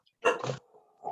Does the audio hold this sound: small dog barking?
yes